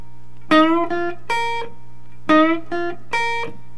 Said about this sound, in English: I'm bending the G string right here on the 8th fret.